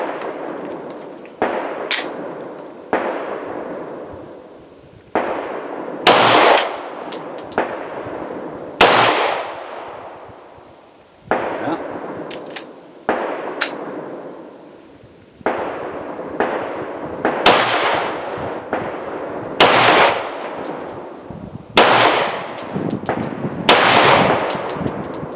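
A Walther P38 pistol fires about twenty sharp, loud shots at an outdoor range, spaced irregularly in small groups, each with a short ringing decay and faint metallic clinks between them, with no talking.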